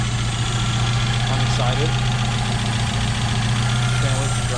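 A rebuilt Mazda Miata engine idles steadily with a low, even hum, while someone briefly talks over it.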